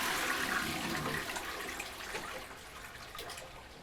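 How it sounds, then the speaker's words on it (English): A toilet flushing during a kitchen-and-home deep clean in a very messy house: a loud rushing surge of water that gradually fades to a softer swirl and trickle, with no one speaking. "Give it another flush."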